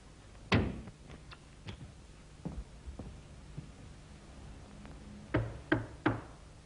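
Knuckles rap on a draper's shop door, a sharp double knock followed later by a few softer isolated taps and then a louder burst of three knocks, close and dry with no voices.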